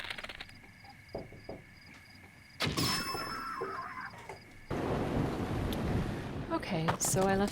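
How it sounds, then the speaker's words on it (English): Thunder rumbles through a stormy scene in Breath of the Wild, a low sustained roll swelling into a louder, denser wash of rain-like noise, with game chimes near the end. "now it's thundering and lightning"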